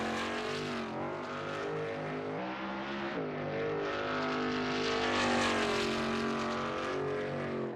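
A Shelby Mustang GT350R races around the Sebring circuit in a racing video game, its engine note loud and continuous, rising and falling through gear shifts and revs with no one talking.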